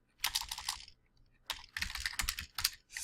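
Computer keyboard typing during QuickBooks 2014 accounting work, two close bursts of rapid, crisp keystrokes separated by a short pause, no voices.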